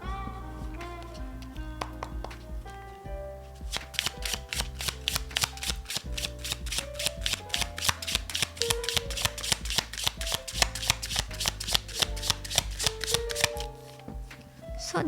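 Tarot cards are shuffled close up in a rapid, even stream of crisp riffling clicks that grows denser after a brief quieter start, with tonal background music underneath.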